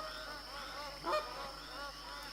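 Flock of geese passing overhead in the hunting game TheHunter Classic, a layered chorus of honking calls carrying across the whole stretch, swelling briefly in the middle, with a sharp click near the end.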